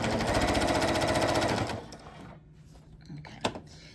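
A sewing machine stitches quilt binding in a fast, even run of needle strokes for under two seconds, then stops, followed by faint handling clicks.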